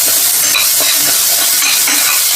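Chopped onions sautéing in a pan for chicken curry give a loud, dense, steady sizzle with faint stirring scrapes, close up and without voices.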